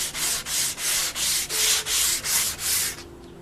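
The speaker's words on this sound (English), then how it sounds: "Here's a Taiaha here. Sanding the bugger." A wooden taiaha is sanded by hand in eight even back-and-forth strokes, each a loud, close, raspy rub, before the sound stops.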